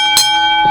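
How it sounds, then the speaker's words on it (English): Ring bell at a wrestling memorial show, struck once with a bright metallic clang that rings on as a sustained tone, loud and close. "Ring the bell."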